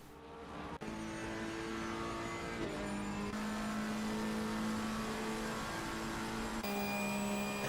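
Several GT3 race cars from a racing video game at Monza roar together in a steady, loud engine drone, with gear shifts and pitch changes as they hold speed in a close pack.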